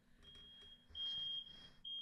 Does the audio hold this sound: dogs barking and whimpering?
no